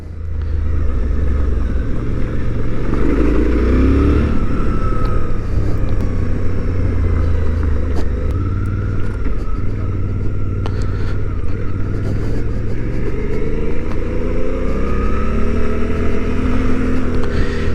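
A 2023 Suzuki V-Strom 800 DE motorcycle engine pulls steadily through a long first gear, its drone rising in pitch and holding loud and close, mixed with wind rumble and no talking.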